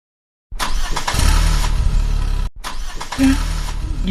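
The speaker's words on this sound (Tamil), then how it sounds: "பாதி வழியில் வந்து வண்டி மக்கர் பண்ணுது" A vehicle engine in an animated cartoon sputters and struggles as it breaks down partway along a road; a loud, uneven rumble with a brief cutout midway, then it chugs again.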